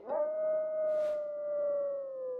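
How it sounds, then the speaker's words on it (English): Fenrir, a wolf beast in Final Fantasy XI, lets out a long, sustained, eerie howl, steady and slowly falling in pitch, heard alone with a brief soft whoosh midway. "There's only one beast that could let forth such an unearthly howl."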